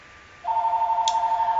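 A telephone rings with a steady, loud electronic tone that starts partway in and holds without a break, over a quiet background.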